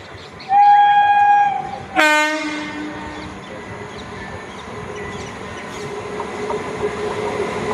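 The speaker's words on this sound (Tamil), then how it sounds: "இப்போ பார்த்தீங்கன்னா சுந்தரபெருமாள் கோவில் ஸ்டேஷனில் வண்டி கிராஸ் ஆகுது" A passenger train crosses at Sundaraperumal Kovil station on a rainy day, its loud horn blasting twice near the start before a steady rumble of rolling wheels and carriages carries on through the rest.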